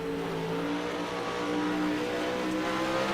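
A late model race car at Eldora Speedway holds a steady, loud engine drone with a sustained, slightly wavering roar throughout, heard alone without talk.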